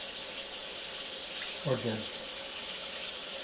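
Cold water runs steadily from a tap into a sink, a constant rushing hiss throughout, with a brief spoken remark in the middle.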